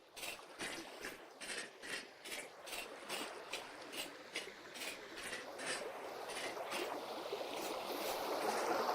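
Rapid flowing water in the video game Vintage Story rushes and grows steadily louder beneath a regular series of crisp footstep-like taps that fade as the water swells.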